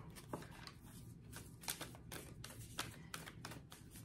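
Oracle cards shuffled and drawn by hand, a quiet run of soft riffling taps and flicks with a few sharper card snaps, close and faint, no talking.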